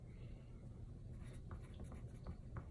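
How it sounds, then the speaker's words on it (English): A pen writing on paper while a football play is notated, faint close scratching strokes that come in short irregular bursts over a low, quiet background hum. "And I'll notate that here for Brown."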